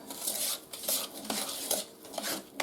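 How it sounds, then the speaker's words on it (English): Cookie batter being mixed by hand in an oversized container, with repeated scraping, clinking strokes of a utensil against the sides, steady and close, no voices. "Now I'm going to mix it all up."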